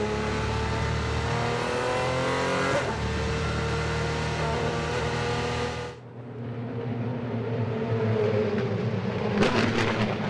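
Formula 3 race cars at the Macau Guia Circuit during qualifying, a loud sustained high-revving engine roar with shifting pitch, one car's note cutting off as another approaches and screams past.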